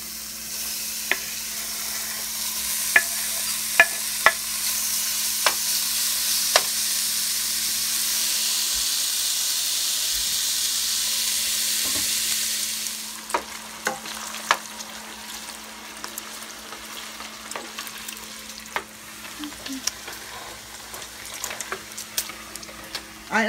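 Bacon sizzling in a pan with no added grease or oil, a steady loud frying hiss for about half the time, then quieter crackling and spattering pops for the rest.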